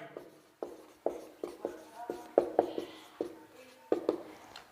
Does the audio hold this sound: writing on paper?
yes